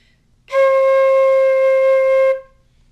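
A flute sounds the note C, one steady held tone of roughly two seconds, clear and close with strong overtones, starting and stopping cleanly against near silence.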